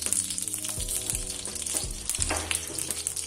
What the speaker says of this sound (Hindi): ये देखिए हमारा देसी घी गर्म हो रहा है।